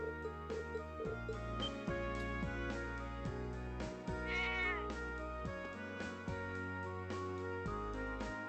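A cat meows repeatedly in the video game Cold Steel, clear and close over steady game music that keeps playing throughout.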